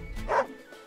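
Caesar the dog in the video game Wargroove gives a single short, close bark that rises and then fades, followed by quiet.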